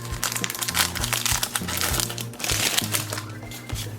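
Wax packs of 1991 Donruss baseball cards being torn open and handled: constant close crinkling and crackling of wax paper with rhythmic rustling pulses, fairly loud and without clear speech.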